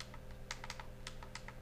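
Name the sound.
clicking the touchpad buttons of an ASUS EeePC 900 netbook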